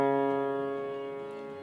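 A piano sounds a single sustained D flat on a black key, ringing clearly and fading slowly with no other sound.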